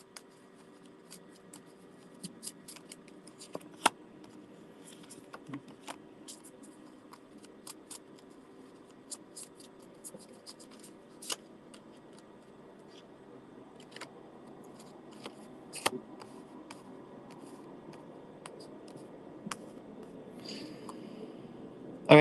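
Tarot cards being shuffled and drawn from a deck, soft papery rustling with scattered sharp snaps and flicks of cards, close and quiet.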